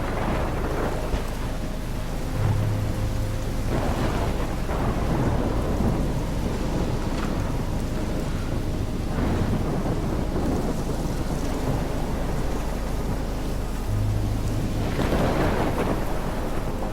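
A thunderstorm in the video game Life is Strange Remastered, with steady heavy rain and wind roaring throughout and deep thunder rumbles swelling in at intervals, no talking over it.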